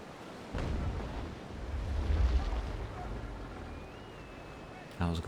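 Ship cannons fire in the naval combat game Naval Action, heard as a rumbling broadside roar of low booms swelling and fading over a few seconds, fairly distant and muffled, with a voice speaking briefly at the end.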